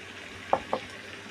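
Fried prawns are dropped into a pan of spiced potato, pumpkin and ridge gourd, giving two quick soft plops over a faint background sizzle.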